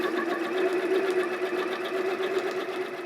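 A sewing machine runs continuously, stitching quilting lines alongside tape: a steady, fast mechanical whirr and rapid needle chatter, close and even throughout.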